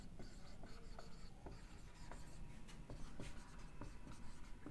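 A pen writes a definition by hand on paper, making faint, close scratching strokes and small taps in an uneven rhythm through a quiet room, with no talking.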